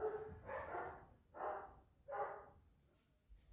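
Dogs bark in four evenly spaced bursts, faint and somewhat distant, sounding agitated.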